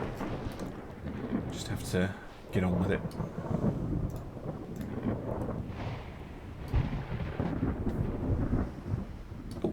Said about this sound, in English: Oh, it's a fucking storm.